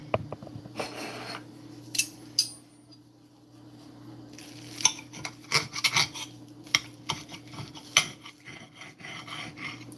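A knife saws and scrapes through a Monte Cristo sandwich of French toast and melted cheese, giving intermittent rasping strokes and small clinks over a steady low hum, close and fairly quiet.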